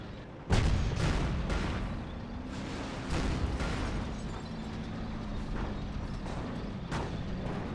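Tank guns fire in a World War II strategy game battle, a heavy boom opening the stretch, followed by repeated thuds and cracks of gunfire over a constant rumbling battle din.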